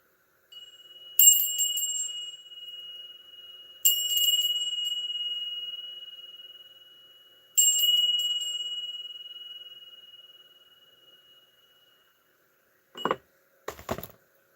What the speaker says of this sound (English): For that, I'm going to ring the bell.